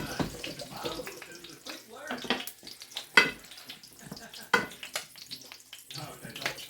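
Mushrooms and potatoes frying in melted butter and thyme in a dish, giving a steady soft sizzle broken by a few louder clatters and stirring bursts, with no talk.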